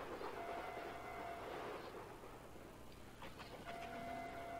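Trains run in the A-Train 9 railway simulation game, giving a faint, steady rolling rumble with soft mechanical hum and occasional light clanks. No one speaks.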